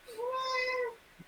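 A single clear, drawn-out cat meow, steady and close, rising slightly then fading, with a faint tap just after in a quiet room.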